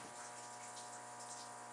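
Water seeps steadily into the engine room of the Fletcher-class destroyer USS The Sullivans. The trickle is faint and continuous against a constant low machinery hum, and no one speaks.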